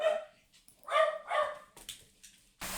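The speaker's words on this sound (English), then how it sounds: "There's a delivery at my next door neighbor's house. Heaven forbid. Dogs are upset." Dogs in a home barking at a delivery next door, with a few loud, close, agitated barks and yips followed by whimpering noises.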